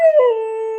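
A dog howls alone, close and loud, in one long sustained tone that slides slightly downward, like singing along with its owner.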